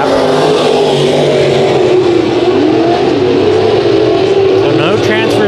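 Dirt modified race cars roaring around Kings Speedway during a heat race, a dense, loud wall of engine noise with shifting pitches as the cars swing wide, under a race announcer's commentary.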